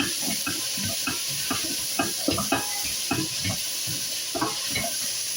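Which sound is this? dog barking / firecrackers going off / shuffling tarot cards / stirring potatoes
stirring potatoes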